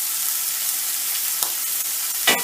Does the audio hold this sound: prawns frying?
yes